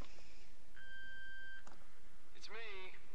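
A quiet answering-machine beep in the game Ether One: a single steady electronic tone held for about a second, followed by a brief warbling sound, with no talk over it.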